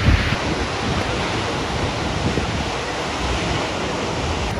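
The Düden waterfall in Turkey pouring straight into the sea, a loud, steady broadband roar of rushing water with some wind buffeting on the microphone and no pauses.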